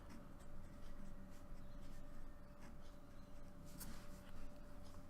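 Pen or marker writing out algebra questions, a run of faint scratchy strokes in irregular bursts against a quiet steady background hum.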